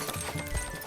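Horse hooves clip-clop steadily in Manor Lords, a medieval city-building video game, with a soft continuous game ambience underneath and no talk.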